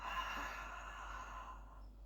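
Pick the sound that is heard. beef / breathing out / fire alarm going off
breathing out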